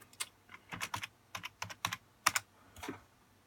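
A computer keyboard is typed on in short uneven bursts, close and fairly quiet, crisp key clicks clustering into quick runs with brief pauses and no talking.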